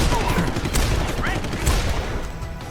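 Heavy gunfire and firefight noise in Deus Ex: Human Revolution, a loud, dense wash of shots and impacts filling the moment, with sharp cracks rising above a constant roar.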